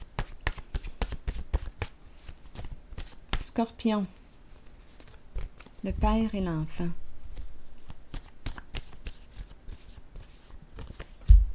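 Tarot cards are shuffled and laid down on a table in a rapid run of crisp flicks and soft slaps, close and fairly quiet, with a person speaking over much of it.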